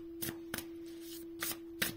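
Tarot cards shuffled by hand ahead of a reading, four short crisp riffling bursts with quiet pauses between, close and soft, with a steady faint tone running underneath.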